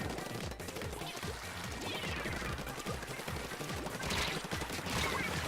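Splooshomatic ink weapon firing rapidly in a Splatoon Splatfest match, a dense, steady stream of quick wet pops running continuously at moderate loudness.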